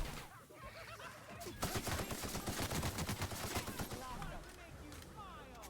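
Rapid bursts of heavy-ammo gunfire in The Outer Worlds, a dense run of loud shots layered over game music, with voices talking faintly underneath.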